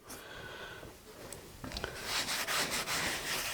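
A fresh cloth rubs seasoning into a cast iron pan, soft scratchy strokes starting faint and growing louder and more rhythmic, close by with no talking.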